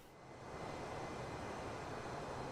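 An Airbus A320neo's jet engines drone steadily in Microsoft Flight Simulator 2020, a broad continuous roar that swells slightly in the first half second and then holds level, moderately quiet, with no talk.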